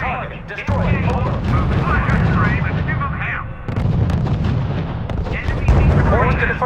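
Dense artillery booms and gunfire in the World War II strategy game R.U.S.E. during a Battle of the Bulge scenario. Heavy shots and explosions rumble continuously and loudly, with a brief lull midway, while radio-style voices talk over the battle.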